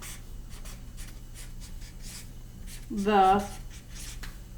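A pen or marker writes the letter B, heard as soft, scratchy strokes in short bursts across the clip, briefly overlapped by a spoken word.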